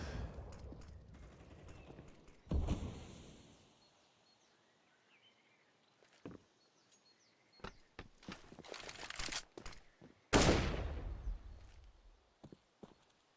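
Rapid bursts of gunfire on the Inferno map of Counter-Strike, with a few loud volleys and scattered sharp shots and footsteps between quieter pauses.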